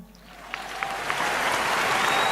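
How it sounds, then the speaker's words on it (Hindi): Audience applause rising and swelling into a steady, dense clatter of many hands, growing louder toward the end with no talk over it. "बहुत अच्छा सवाल है और अच्छा धंधा है भाई, तालियां।"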